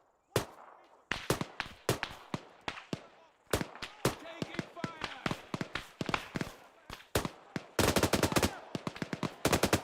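Video game machine gun fire in a war setting, with loud, sharp bursts of gunshots repeating in quick runs and ending in a dense rapid stream, while people shout underneath.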